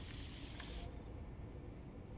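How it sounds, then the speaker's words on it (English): Healing spray in the video game Death Stranding 2, a loud broadband hissing burst lasting just under a second that cuts off abruptly, leaving a low background rumble. "Let me get a little spray down here."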